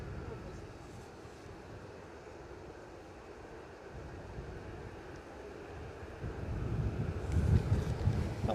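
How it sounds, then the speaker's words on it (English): Wind buffeting a microphone at an airport viewing spot, a low rumbling gusty roar that stays steady and then swells louder toward the end; a voice speaks faintly at times. "That wind is just picking back up now."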